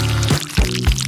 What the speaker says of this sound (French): Et j'arrose dessus.